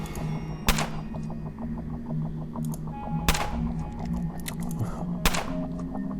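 Three sharp gunshot cracks ring out at even intervals in the turn-based video game UnderRail, loud and punchy over a low humming ambient soundtrack with soft ticking in between.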